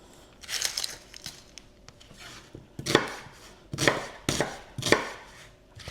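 A knife chops roughly through food on a cutting board, up close: a few scattered cuts early, then a run of firm, fairly regular strikes roughly every half second to a second.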